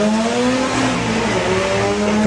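Drag race cars, a Mark II VW Golf and a VW Beetle, launch side by side at Santa Pod with a loud, sustained engine roar and rising revs, no voices.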